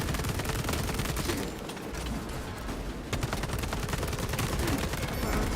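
Rapid automatic weapon fire in a space shooter video game, loud dense bursts of shots that briefly drop off in the middle before resuming at full intensity.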